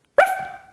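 A person imitating a dog's bark with a single short, sharp vocal yap that trails off, close and fairly loud, heard on its own.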